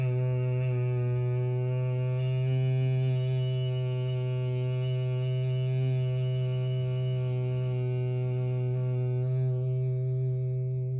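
Bhramari humming breath during a yoga class: a sustained, steady, deeply resonant hum held unbroken for the whole stretch, with rich overtones, several voices blending close by and no talking.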